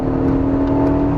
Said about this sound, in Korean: 스포츠 모드로 갔더니 엔진 음색이 조금 더 굵어진달까요, 엔진 소리가 좀 더 매력 있어집니다